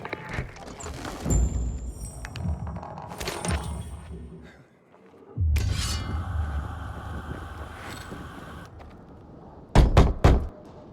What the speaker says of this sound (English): Knock on some doors.